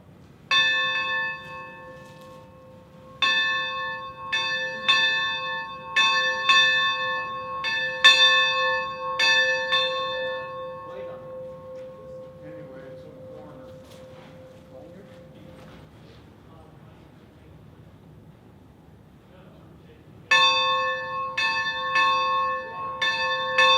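A large bell clanging inside a railway roundhouse at a train show, bursts of bright, resonant strikes in irregular runs, each ring hanging and decaying through a quieter pause before the clanging resumes, with soft background murmur.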